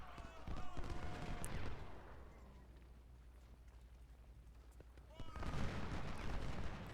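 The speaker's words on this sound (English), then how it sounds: "They're shooting at a larger group that is hidden in the trees." Massed rifle volleys of soldiers firing in a Civil War strategy game, dense crackling gunfire in two loud bursts at the start and end with a quieter spell of scattered shots between.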